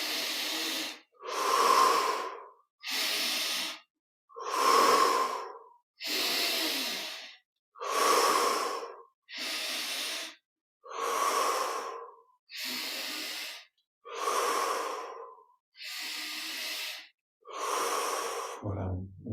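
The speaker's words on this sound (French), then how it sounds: "on prend 15 grandes respires. Inspire par le nez, expire par la bouche." Slow, deep breathing repeated about a dozen times in a steady rhythm, each breath a soft airy rush drawn in through the nose and let out through the mouth, close and clear with no talking.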